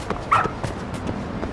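A dog in the video game Lost Judgment gives a short yip and a brief whimper, close and moderately loud over a low background hum.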